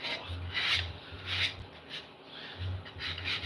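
Sandpaper rubbed by hand over a piece, rhythmic back-and-forth scraping strokes, close and fairly loud, about six passes with brief pauses between them.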